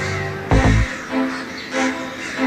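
Crows cawing in a Serbian prison yard, one loud close harsh caw followed by several fainter, drawn-out calls at spaced intervals.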